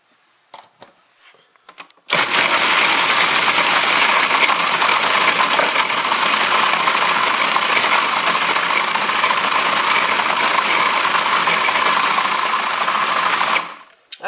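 Food processor chopping two eggs for homemade spinach pasta, starting abruptly and running as a loud, steady, high whirring buzz for about eleven seconds before cutting off.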